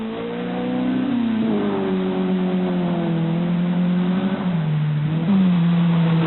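A 1983 rally car engine revs hard as the car drives to the finish, a loud, sustained mid-pitched drone whose pitch rises and drops with gear changes, close and continuous.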